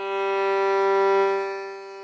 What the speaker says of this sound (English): The G string is the lowest string on the violin, all the way on the left, and it sounds like this.